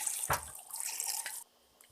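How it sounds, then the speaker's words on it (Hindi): Cold water splashes from a tap over boiled spaghetti in a strainer, a short, close rush of running water that stops abruptly, leaving faint drips. "एक स्ट्रेनर की मदद से इसका पानी निकालेंगे और उसके ऊपर ठंडा पानी डाल देंगे"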